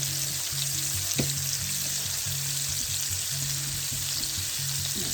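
Southern-style pork chops sizzle and fry steadily in a hot pan, a continuous loud crackle with low stirring and clatter running underneath throughout.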